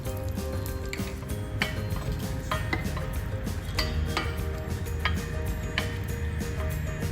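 Almonds, cashew nuts and raisins fry in a pan, giving a steady dense sizzle with intermittent sharp clinks and scrapes of a spoon against the cookware throughout.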